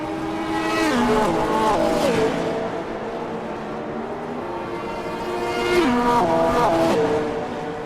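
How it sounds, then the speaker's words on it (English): A GT3 race car in a sim racing event on the Detroit circuit spins out: a loud engine with shifting harmonic pitch sweeps down and back up alongside tire squeal, in two surges, with no talk. "Eric Jacobs has spun in LMGT3"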